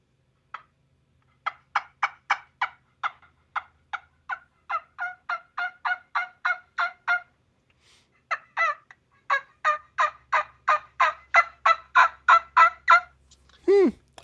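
A wingbone turkey call blown in rapid, loud yelping bursts, a steady run of sharp clucks, a short pause, then another long series ending with a rising flare at the close, heard alone without talk.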